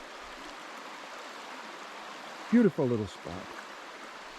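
A river stream flowing along the Bruce Trail in the Pretty River Valley, a steady soft rushing wash, with someone briefly speaking over it.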